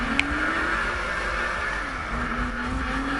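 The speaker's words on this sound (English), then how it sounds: "See the way I'm revving my engine?" Car engine in the video game NFS 2015 (Need for Speed) holding a steady, loud drone with a pitch that rises and dips slightly, with no voices over it.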